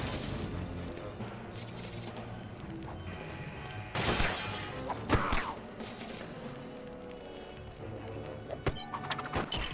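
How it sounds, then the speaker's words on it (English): A glass tube shattering in a LEGO Batman video game, a bright crash and burst of tinkling shards amid busy mechanical game noise and rattling, with a few sharp impacts afterward. "and then shatter this glass tube."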